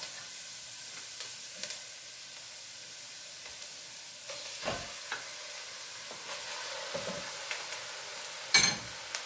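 Ground meat sizzles and spits in a hot pan with softened onion and celery, a steady close frying hiss broken by a few louder scraping stirs, no voices.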